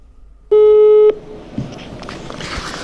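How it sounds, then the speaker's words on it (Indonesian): A single steady telephone tone sounds for about half a second while a phone call is placed, followed by faint rustling and low background noise. "Kita coba telepon Bu Popi ya"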